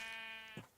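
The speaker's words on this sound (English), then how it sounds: "Okay, I hear you baaing, sheep." A single drawn-out sheep bleat from the video game Minecraft, fairly faint and wavering, ending in a short lower drop.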